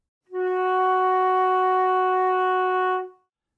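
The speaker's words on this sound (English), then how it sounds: "To finger F sharp / G flat in the first octave, start with your thumb in the left hand" Flute sustaining a single steady F sharp in the low first octave, one clean held tone of about three seconds, close and clear, alone.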